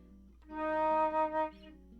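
A single sustained D sharp flute note, clear and steady, with a slight wavering swell near its end before fading out.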